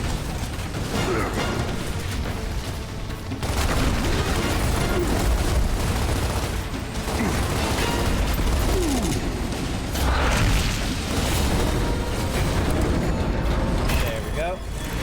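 Dense, continuous gunfire and explosions pound away at a wall in Gears of War, loud rattling bursts and booms layered over heavy mechanical noise, with voices mixed in.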